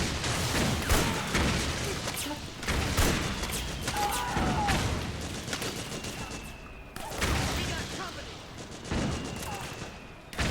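Rapid bursts of video-game gunfire from Metal Gear Solid 4 crackle across a battlefield, with repeated volleys and sharp reports layered over a dense, continuous din.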